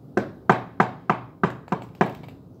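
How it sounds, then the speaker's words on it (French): Seven hard, evenly spaced knocks pound on a wooden front door, each a loud, close thud with a quick decay, in a steady insistent rhythm and no voices. "Compère Requin frappe de toutes ses forces à la porte de Mère Grand."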